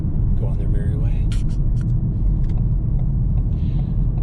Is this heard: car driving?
yes